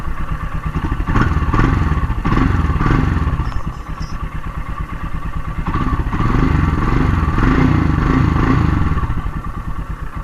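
Royal Enfield Himalayan single-cylinder engine running after a fresh NGK iridium spark plug install, a close, loud, rapid thumping idle that swells twice with revs amid mechanical clatter, no talking.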